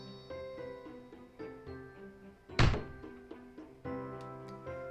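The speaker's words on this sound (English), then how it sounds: "There was a loud, sudden metallic sound as my back struck the bench behind me" A back slams into a metal bench in the Corpse Party: Blood Drive video game, a single loud, sudden impact thud cutting through steady background music.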